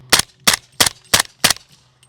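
A suppressed SIG MCX Rattler LT with a SureFire 300 SPS fires five Hornady Sub X 190 grain subsonic .300 Blackout rounds, evenly spaced sharp muffled cracks about a third of a second apart, close and loud.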